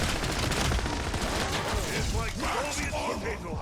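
MP40 submachine gun firing in a zombies-mode video game, rapid bursts of automatic fire with mechanical clicks, loud and close, mixed with a talking voice.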